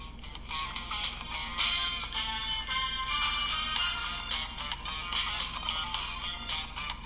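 Music or a ringtone-like tune plays through the single speaker of a Samsung Galaxy A51 phone, steady and fairly bright with a thin, boxy tone and little low end, continuous for several seconds without talk.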